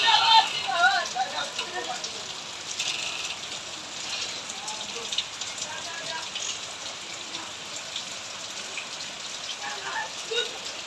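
Rain falling during the rainy season, a steady soft hiss of drops with someone talking over it near the start.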